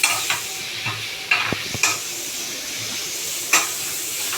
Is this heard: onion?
yes